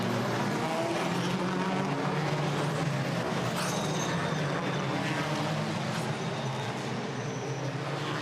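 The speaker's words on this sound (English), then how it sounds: "Cars heading off on the final formation lap before race 2 of the Netherlands." WTCR touring race cars pull away on the formation lap at a Netherlands circuit, a dense, continuous roar of several engines close by, steady and loud with no talk over it.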